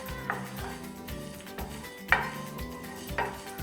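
Whole spices dry roasting in a pan, with light rattling, clinks of a utensil against the metal and a few sharper knocks over a low steady background, close by and without speech.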